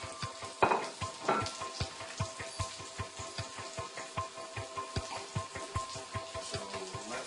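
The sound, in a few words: shallots and sage cooking in brown butter in pan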